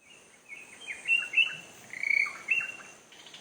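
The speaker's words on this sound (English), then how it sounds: "You can see the birds chirping and all that." Birds chirping at a quiet, peaceful home in Kerala, several thin high calls repeating in short bursts over soft background ambience, moderately near with no talking.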